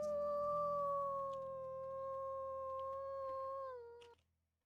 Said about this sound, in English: Let's go ahead and do a howl with the pups.